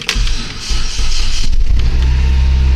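A 2004 Hyundai Santa Fe engine cranks and catches, then settles into a loud, close, steady idle hum as the vehicle prepares to back out.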